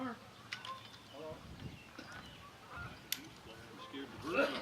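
Goose-like honking from a bird at an outdoor Memorial Day ceremony in Jefferson, Wisconsin: a few faint, scattered honks over quiet outdoor ambience, with people speaking nearby.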